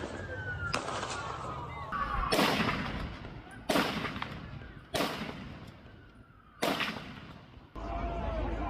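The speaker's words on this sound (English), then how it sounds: "the man in white trousers is back on the bridge and firing with a different weapon" Several loud gunshots ring out from a man firing a weapon on a bridge during a violent attack, sharp broadband cracks spaced about a second or more apart with lingering echo and background noise between them.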